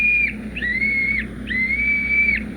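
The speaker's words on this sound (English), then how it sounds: "Blow the whistle quick, Jimmy." A whistle is blown three times in an old radio drama, each note a thin, shrill tone, the first short and the next two longer, close and fairly soft.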